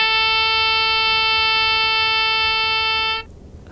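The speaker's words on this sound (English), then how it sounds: "this is an oboe playing the A4 note" Oboe holding a steady A4 note with a rich, buzzy stack of harmonics, sustained evenly for about three seconds before stopping abruptly, played alone.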